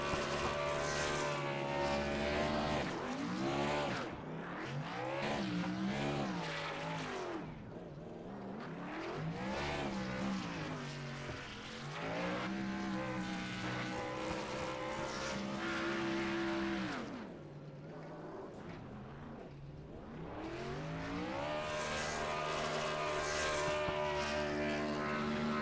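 A sim race car does a burnout on the front straightaway at Rockingham in a racing video game, a loud sustained engine roar with rising and falling pitch sweeps, briefly dipping a couple of times before surging again.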